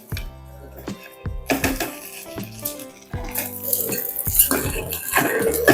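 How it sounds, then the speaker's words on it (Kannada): A metal lid comes off a pot of palak biryani and lands with clanks, followed by scraping and clinking as the spinach rice is stirred, with metallic knocks throughout. "ತಟ್ಟೆ ತೆಗಿಯೋಣ, ಪಕ್ಕದಲ್ಲಿ ಇಡೋಣ, 1 ರೌಂಡ್ ತಿರುಗಿಸ್ಕೊಟ್ಬಿಡೋಣ."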